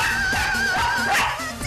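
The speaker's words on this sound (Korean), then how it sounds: "짖고 나는야 계속 짖는다." A small dog barks and yips loudly and continuously in an apartment, its sharp calls layered over a busy music bed.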